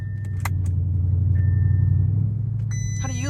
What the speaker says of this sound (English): How do you like driving the Bentley?